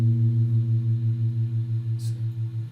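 Two low guitar notes a minor second apart ring together, their clash producing a steady rapid beating wobble that slowly fades, with a small click near the end and no talking.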